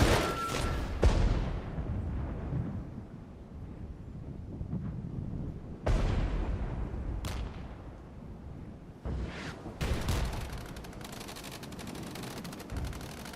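Vehicle-mounted machine guns firing in the wargame Regiments, dense rattling bursts and heavy booming impacts layered over a constant battlefield rumble, several sharp loud blasts punctuating the continuous fire.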